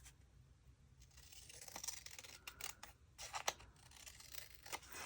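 Paper label being trimmed with scissors, a few crisp snips and light papery rustles close by in a quiet room, with irregular short cuts spread across the moment.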